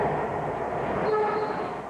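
Subway train rumbling deep beneath Atlanta, the Olympic City, a steady rolling roar of rail cars with a brief horn-like tone rising partway through, close and continuous with no talk.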